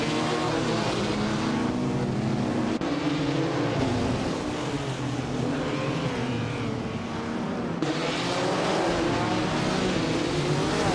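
A classic 1955 Mercedes-Benz 300S race car engine at Knockhill in a racing video game, a loud continuous revving drone with shifting pitch and brief gear-change breaks, no talking.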